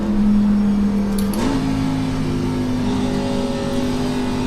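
Race car in the iRacing NASCAR Xfinity Series game at Las Vegas Motor Speedway rolling down pit road, a steady loud engine drone that dips briefly and then settles into a lower, even hum.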